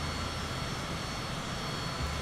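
Business jet engine in Microsoft Flight Simulator 2020, a steady low whine-and-roar drone that holds even and continuous throughout, with no talk over it.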